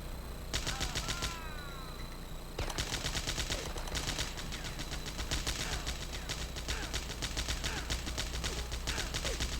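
Sustained automatic gunfire in the Die Hard Nakatomi Plaza video game, rapid rattling bursts that run almost continuously, with one brief pause early on, loud and dense throughout.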